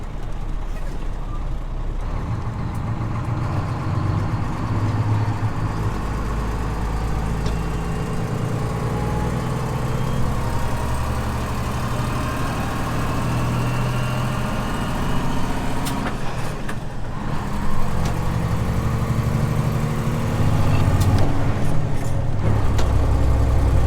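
A grain truck loaded with corn bound for an ethanol plant pulls away and drives on, its engine a steady low rumble with gear changes and road noise, heard from inside the cab.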